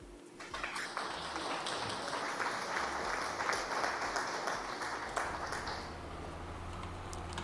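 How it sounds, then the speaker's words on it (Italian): Faint, distant applause from a group, a steady wash of clapping that swells slightly then thins out, with some background noise. "Applausi."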